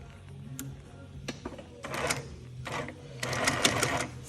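Twin needle sewing machine fitted with a piping foot, running in short intermittent bursts of rapid clattering stitches, close by over a low background hum, with no talking.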